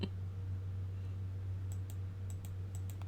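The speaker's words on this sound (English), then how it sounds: "How many times do I have to click it?" Computer mouse clicks, a quick irregular run of light, sharp clicks in the second half over a steady low electrical hum, with no talk.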